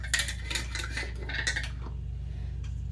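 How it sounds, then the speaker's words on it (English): Quick scraping clicks and grinding as a lid is screwed onto a glass jar, a short run of turning sounds close up that stops halfway, leaving a steady low hum. "And then I'm going to screw this lid on."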